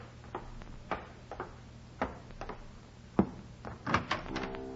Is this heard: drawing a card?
no